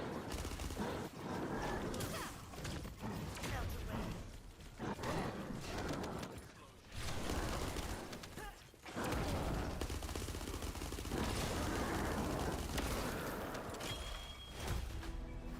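Dense, sustained bursts of gunfire roar through a battle in the video game The First Descendant, with rapid shots overlapping across the whole stretch and only brief dips in loudness.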